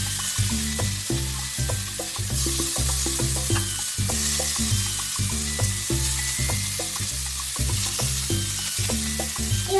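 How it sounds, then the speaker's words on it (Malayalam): Fish fries in coconut oil with a loud, steady sizzle close up. Faint rhythmic clatter and stirring taps run underneath, with no talking. "എപ്പോഴും വെളിച്ചെണ്ണയിൽ മീൻ വറുക്കുന്നതാണ് ഏറ്റവും ബെസ്റ്റ്."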